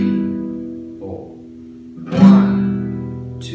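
A guitar strums an E minor chord and lets it ring, followed by a sharper strum about two seconds in that sustains to the end, played alone without talk.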